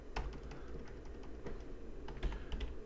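Computer keyboard typing during setup of the Kippo honeypot, an irregular run of light clicks and clacks close up over a faint steady hum, with no voices.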